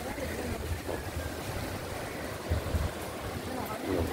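Sea waves wash ashore by the Murudeshwar temple coast in Karnataka, a steady broad roar of surf with wind noise and a few heavier swells breaking, continuous and fairly loud.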